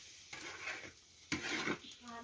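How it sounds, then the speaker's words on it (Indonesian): Coconut oil being heated in a pan for homemade virgin coconut oil is stirred continuously, a utensil scraping the pan in repeated strokes over a soft sizzle, close and moderately quiet. "ini perlu diaduk terus ya."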